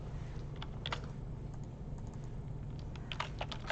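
Quiet keystrokes on a computer keyboard as text is entered in Adobe Illustrator, with a few soft clustered clicks standing out from a steady background hiss.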